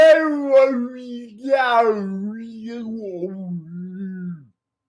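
A voice imitates a whale call, a long, sliding, howling tone that rises and falls for about four seconds before stopping abruptly, close and loud.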